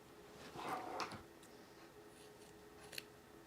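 Scissors snip through dress fabric while trimming along a curved seam, a couple of close, crisp cuts early on followed by a quieter stretch and one small click near the end.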